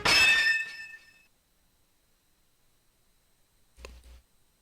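Two silver blades meet in a sword clash in the game Code: Realize. One bright, loud metallic ring fades over about a second, then silence, then a brief dull thump.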